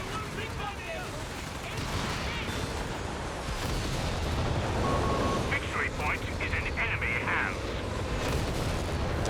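British BL 5.5 artillery firing in Company of Heroes 3, a steady rumble of distant booms and battlefield noise running under continuous talk.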